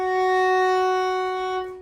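A single sustained F sharp bowed on a violin's D string with the second finger, a clean steady tone with rich even harmonics, held alone for nearly two seconds before fading.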